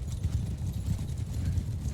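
Horse hooves clip-clopping in the video game Mount & Blade Bannerlord, a steady rapid run of muffled hoofbeats, close and continuous, with no talk over it.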